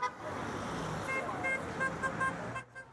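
Passing cars honk at a roadside Ukraine support rally in Tarzana, with several short toots rising over steady traffic noise and murmuring voices.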